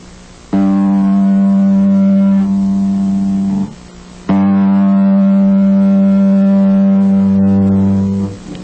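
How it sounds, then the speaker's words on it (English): Two long, loud, sustained bass guitar tones on the top G string, played for tuning, each ringing steadily for about three to four seconds with a clear harmonic hum, separated by a brief gap. "I'm going to give you some long tones so you can tune your basses with mine"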